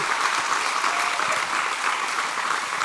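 Steady, sustained applause from a camp audience greeting panel members, a dense wash of clapping from many hands with no gaps.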